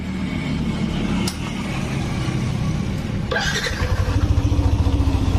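A Yamaha Nmax scooter with a noisy engine that keeps dying is started close by. A sharp starter whir gives way to a rhythmic, pulsing idle that grows steadier over a continuous background hum.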